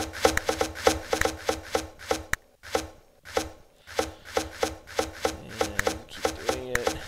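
A character in the video game Towns chops down trees, producing a steady run of crisp wooden thunks about three per second, with a brief pause midway, loud and close with no talking.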